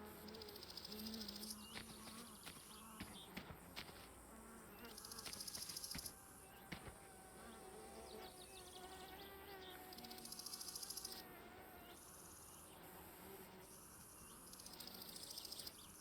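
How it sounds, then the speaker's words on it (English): A wasp in the driving game My Summer Car drones with a continuous insect buzz that swells and fades for the whole stretch, layered over busy ambient game noise with steady high chirring. "There's a wasp around here, which will be a pain."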